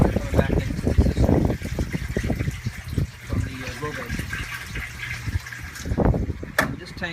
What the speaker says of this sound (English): And that is the drain from the plant side. All the plant water coming back into the system